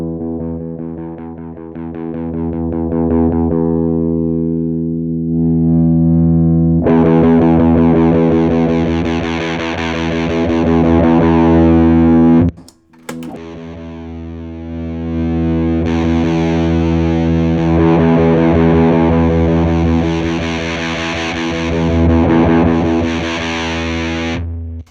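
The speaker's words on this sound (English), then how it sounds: "let me try sweeping this tone knob while I play that E again" Electro-Harmonix Green Russian Big Muff fuzz pedal on electric guitar, a sustained distorted E note rung out loud and steady while the tone knob sweeps, brightening the fuzz; a brief break midway before the note is struck again.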